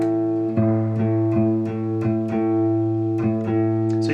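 Acoustic guitar being tuned, the A string plucked repeatedly in a steady rhythm with notes ringing together, close and clear, no talk over it.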